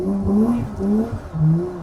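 A car accelerating on a race track during drift training, the engine note rising and falling in steady revving sweeps, close and loud, with no talk.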